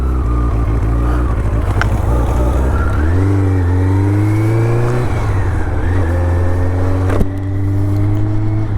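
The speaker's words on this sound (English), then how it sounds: "I want to listen out to the noise the bike's making" A 1984 Honda CB700SC Nighthawk S motorcycle engine while riding on a tree-lined road, loud and close, revving up through the gears with rising pitch, a shift dip partway, then holding a steady drone.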